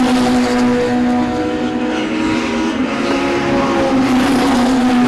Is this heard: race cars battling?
yes